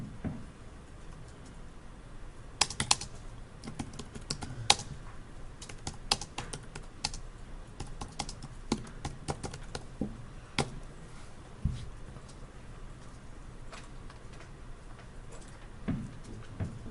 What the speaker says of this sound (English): So let's type in riding mower.